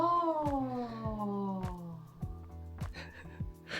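An indoor house cat gives a long, drawn-out meow that slides downward in pitch, followed by several soft taps and rustles, with a person briefly murmuring nearby.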